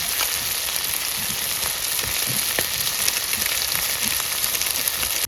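Spices hit hot oil in a pan over an outdoor riverside cooking fire, giving a steady, loud frying sizzle with crackling pops throughout and no voices.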